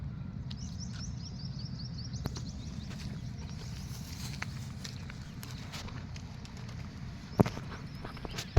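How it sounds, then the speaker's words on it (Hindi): A flock of many birds perched together on overhead electrical wires, with faint, rapid chirps and coos scattered through the clip above a steady low rumble of outdoor background noise. "ये देखो कितने सारे पक्षी हैं, साथ में इनको बैठने के लिए तार इलेक्ट्रिकल वायर भी लगाए हुए हैं"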